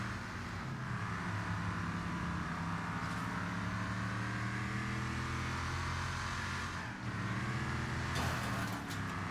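Cars and RVs cruise along a road, a steady, continuous engine and road drone with a faint swell as traffic passes, heard without talking.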